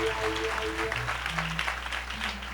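Congregation applauding during a French-language church service, steady sustained clapping from many hands with faint organ or keyboard tones underneath.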